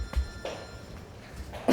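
A telephone rings in short, faint bursts at a photography exhibition, with no voices over it.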